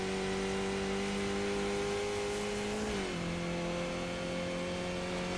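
A race car engine in the iRacing simulator, at Bathurst, droning steadily at high revs, then easing its pitch down briefly as the car crests a jump, loud and continuous without any talking.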